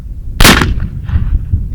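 An Uberti Remington 1858 cap-and-ball revolver fires after a brief hang fire, one loud sharp blast with a short rumbling tail, close and alone with no talking.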